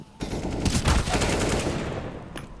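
Shotgun fire in CS:GO on the map Nuke, with a cluster of dense blasts early on, then a steady rush of game noise and a faint sharp shot near the end.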